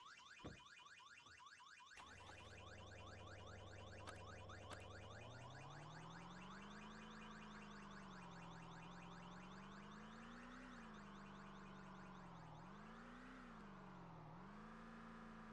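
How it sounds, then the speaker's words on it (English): Car alarm blaring in the video game Vein, a loud steady electronic siren whose pitch wavers and sweeps, sounding continuously alone after a couple of brief clicks at the start. "Because a constant alarm is just a really bad idea."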